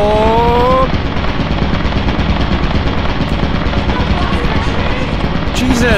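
An automatic turret fires in Lethal Company, a loud, continuous rattling barrage that fills the whole stretch while players shout over it.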